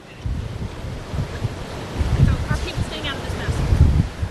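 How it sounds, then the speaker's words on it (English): Strong tropical storm wind gusting straight into a microphone gives a loud, steady roar with surging peaks, and faint talk is buried beneath it. "still the wind has been very, very strong"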